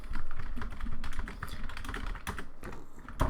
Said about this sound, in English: Sorry for the typing.